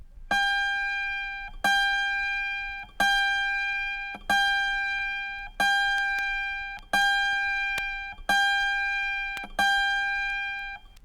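Autoharp F string plucked repeatedly for tuning, eight bright ringing notes about every 1.3 seconds, each decaying before the next, close and alone.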